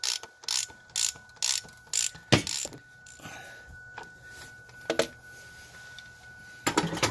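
A part is screwed back onto a Ford Super Duty 6.0 diesel engine during oil cooler work, heard as a series of sharp ratcheting clicks and metallic bursts in uneven groups, close by, with quiet gaps between.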